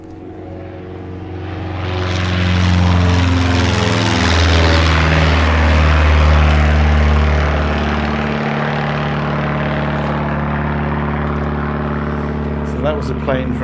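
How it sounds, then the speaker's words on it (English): A propeller plane from Perranporth airfield passes overhead near Cligga Head: a broad engine drone swells over a few seconds, peaks loudly, then slowly fades into a steady distant hum. "That was a plane from Perranporth airfield."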